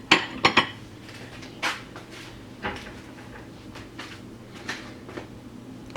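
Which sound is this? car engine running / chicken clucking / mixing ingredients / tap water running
mixing ingredients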